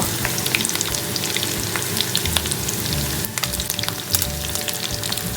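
Prawns fry in hot oil with a dense, loud, continuous sizzle and crackle, scattered sharp pops throughout, no voices.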